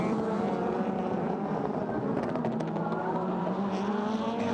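World Touring Car Championship race cars at the 2016 Japan round roar past in a dense, continuous engine drone, several cars overlapping with rising pitch sweeps and a faint tire squeal.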